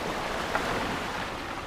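Waves of an incoming tide wash onto the sea shore at the Valley of the Rocks, a steady broadband surf roar with wind noise and one brief splash, heard alone without voices.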